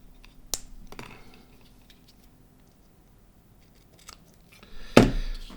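Scissors making a few sharp snips, a crisp cut early on and a louder, closer snip near the end, with quiet pauses between.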